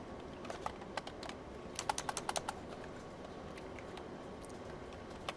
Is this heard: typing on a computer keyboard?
yes